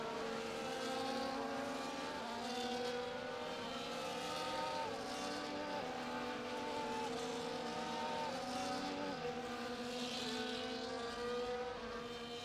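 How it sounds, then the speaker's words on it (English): Several F1 24 race cars drive to the starting grid, their engine notes droning and rising in stepped gear changes, a steady overlapping roar with no voices. "As the cars make their way back to the starting grid to form up and get ready for lights out"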